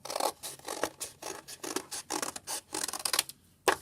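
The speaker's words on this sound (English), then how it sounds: "I'm going to cut on the bottom, so the opposite side of the fold." Scissors snip through paper along a fold in a run of short, crisp cuts, each a rasping crunch, some in quick pairs, heard close up with a brief pause before a final snip.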